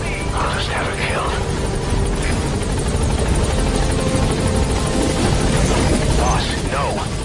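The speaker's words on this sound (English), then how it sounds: "send the extraction chopper" The extraction helicopter in a video game, its rotor beating in a loud, steady drone throughout, with brief game sounds over it and no speech.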